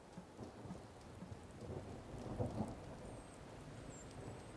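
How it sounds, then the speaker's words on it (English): Big thunderstorm in the game Wylde Flowers: steady hissing rain with deep thunder rumbling underneath, swelling slightly in the middle, continuous and fairly soft, with no voices. "Oh, this is quite a big storm, isn't it?"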